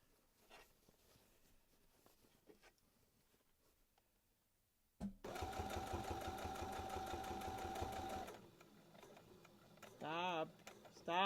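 A sewing machine stitches fabric for a reversible bucket hat, first with soft handling noises, then a loud, fast, rhythmic run of several seconds before it stops, followed by brief bursts of mechanical whirring.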